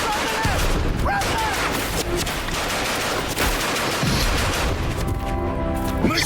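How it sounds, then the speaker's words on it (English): Bursts of machine gun fire crackle densely and loudly through a chaotic battle scene in an audio drama, with shouting voices mixed in. "Machine guns!"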